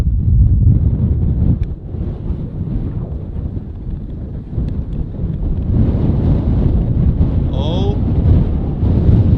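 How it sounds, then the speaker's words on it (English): Strong wind on a golf course buffets the microphone in loud, rough gusts throughout, and a voice briefly exclaims. "you can probably hear the wind now"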